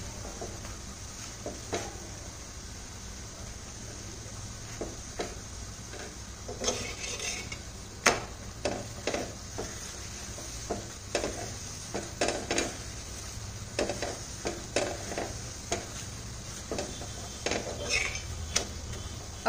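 A laccha paratha roasts in oil on a pan: a faint sizzle runs underneath while a spatula scrapes and taps the metal in irregular, close clicks, with no talk.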